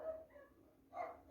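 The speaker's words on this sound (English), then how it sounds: "I don't know why the dogs are fighting now." Dogs scuffle in the background, with faint, distant barks and yips in two short bursts separated by a brief lull, and no talking.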